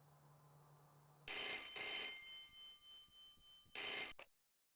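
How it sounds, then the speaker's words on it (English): A telephone rings in the video game Broken Sword: The Shadow of the Templars, with two rings and then a short third burst before it cuts off over a quiet hum. "It's the phone!"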